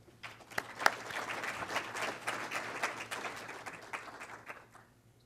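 Audience at a panel on climate change and buildings breaks into applause to welcome a speaker, a dense burst of clapping that swells, holds and then tapers off.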